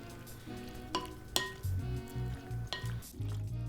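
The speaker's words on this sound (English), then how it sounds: "I'm gonna mix all this pasta with the sauce" A spoon works through pasta and tomato sauce in a pan for a baked pasta dish, scraping and clinking against the metal in steady strokes over a soft sizzle, close and moderately loud, no talking.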